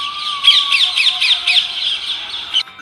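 Parrots chatter busily in a tree, a dense flock of shrill, rhythmic squawks and chirps close by, with a thin steady whistling tone running underneath.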